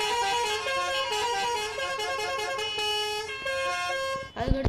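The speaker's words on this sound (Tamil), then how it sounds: "அதுக்கடுத்து இது வந்து ஹாரன்." Bus horn sounds in the video game Bus Simulator Indonesia: sustained multi-tone honks changing pitch in steps, loud and close, cycling through several horn variants, ending with a short burst of noise.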